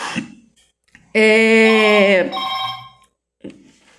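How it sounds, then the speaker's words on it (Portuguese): A telephone rings once with a bright, sustained electronic tone lasting about a second, alone and close, followed by brief rustling. "O telefone tocou, eu fui atender."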